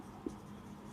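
Chalk or marker scraping across a classroom board during a physics lesson, a soft continuous scratch with one brief sharper tap near the start, fairly quiet and with no talking.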